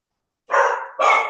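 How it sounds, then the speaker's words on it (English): A dog barks twice in quick succession, two loud close yelps separated by a short gap, with no talking over them. "Those damn dogs."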